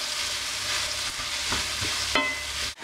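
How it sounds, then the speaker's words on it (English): Sausage with green pepper and onion sizzles steadily in a pan, a close, even frying hiss broken by a few soft scrapes and clinks of stirring. "so the sausage is cooking away, and I'm going to go ahead and add the green pepper and onion to that"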